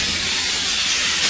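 Water hits burning oil products and erupts into a steam flare-up: a loud, steady, broad hissing roar that holds evenly for the whole moment, with no voices.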